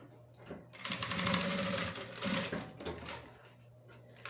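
A sewing machine stitches a seam through the middle of a zipper on a crossbody bag, running in close, rapid mechanical bursts, pausing briefly between runs, with no talk.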